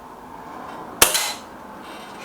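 A single sharp crack from a Gamo GX250 air rifle, one close, loud report with a brief tail, alone against quiet background.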